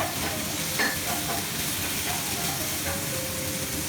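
Sugar snap peas seasoned with salt being stir-fried in a pan: a continuous loud sizzle with intermittent scraping stir strokes, no voices.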